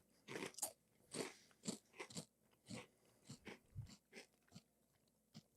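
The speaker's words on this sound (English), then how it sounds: "I've just been enjoying the Cinnamon Toast Crunch." Close, crisp crunching of Cinnamon Toast Crunch cereal being bitten and chewed, about a dozen sharp bites and crackles in an uneven rhythm, with no talk.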